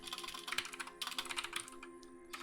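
Fast, continuous typing on a computer keyboard, close up, with irregular clusters of key clicks and a brief pause near the end.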